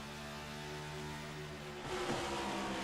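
A stock car races around an oval track at The Rock, engine droning at a distance before a louder, rising roar as it passes nearby.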